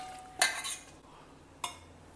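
A spoon mixes grated coconut and jaggery syrup in a metal vessel, giving two sharp clinks of metal on metal with a soft scrape between them, fairly quiet and without voices.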